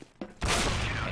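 Gunfire in the video game Counter-Strike: Global Offensive during a tournament match, with two quick faint shots followed by a loud, sustained burst of rapid fire that carries on to the end, and a commentator's voice faintly underneath.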